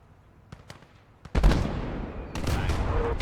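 A tank gun fires with one loud, sharp blast in the Eastern Front war game Gates of Hell Ostfront, followed by a rumbling tail and a second swell of battle noise, with faint clicks beforehand.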